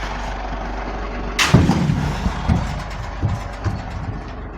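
Small metal expansion tanks from boilers thrown onto a high-stacked scrap load, one sharp loud clanging impact followed by a few smaller knocks and rattles over the steady low idle of a heavy engine.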